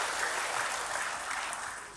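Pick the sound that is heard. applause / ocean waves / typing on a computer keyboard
applause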